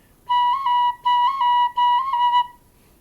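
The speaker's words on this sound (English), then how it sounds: "That's playing your C sharp." A tin whistle plays three bright, sustained notes with small pitch jumps where an extra C sharp note slips in instead of a clean cut; close and solo, with no voices.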